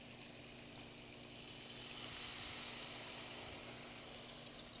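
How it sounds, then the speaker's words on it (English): Water being poured into a pan of onions cooking with turmeric and red chili powder, a steady, soft broadband splashing and sizzling hiss that continues evenly throughout, close by and fairly quiet. "Now I'll put little bit of water to cook the onion."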